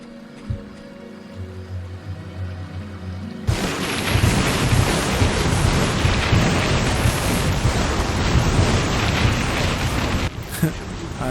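A lightning spell cast in Fable Anniversary sets off a sudden loud crackling roar that keeps up as a dense, thunderous hiss for several seconds, following a quieter stretch with some speech.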